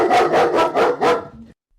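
Dogs barking at a FedEx delivery outside, about five loud, close barks in a quick regular series before stopping abruptly.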